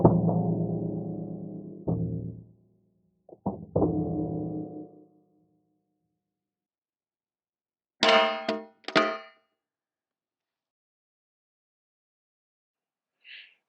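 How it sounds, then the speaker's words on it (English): A pistol fitted with a red dot optic dropped from shoulder height onto steel targets, giving a few sharp metallic clangs with ringing decay, separated by silence, then two brighter clanks later and a faint tick at the end. "we're just going to drop it on shoulder height on some shootsteel.com steel"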